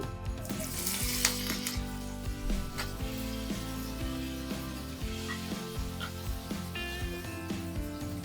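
Chopped onion, green chili, curry leaves and tomato fry in oil, with a steady close sizzle and crackle and repeated scraping of a spoon stirring the pan, and no voice.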